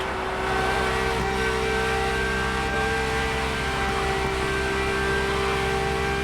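Ferrari supercar engine in The Crew Motorfest, heard from inside the cabin, holding a loud, steady high-revving drone with bright harmonic whine throughout, no talk.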